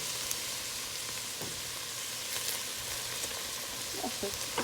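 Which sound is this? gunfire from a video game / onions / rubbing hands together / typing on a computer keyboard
onions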